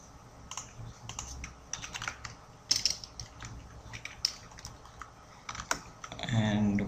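Rapid keystrokes on a computer keyboard, close and fairly quiet, arrive in uneven bursts of clicks and taps with short pauses between words, with no one talking over them.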